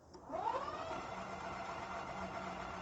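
After a brief click, a Ghostcat F3 Pro 1500W e-bike hub motor spins up on throttle with no load, then holds a steady, moderately quiet electric whine with a low hum beneath.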